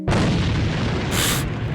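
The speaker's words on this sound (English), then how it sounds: "Rocket launchers." A rocket launcher explodes in the Minecraft AVA Guns mod video game. One loud, close boom bursts in and rumbles steadily, with a brighter crackling flare partway through.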